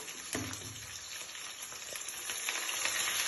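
Onion and suntauli leaves frying in a pan with fenugreek for a goat meat curry, a close, crackling sizzle with scattered utensil clinks that grows slightly louder, and no one talking.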